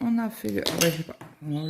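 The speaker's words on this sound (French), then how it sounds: "C'est mon aimant qui est tombé." A cross-stitch magnet drops and clinks sharply against a hard surface in a quick burst of metallic taps, with someone speaking before and after it.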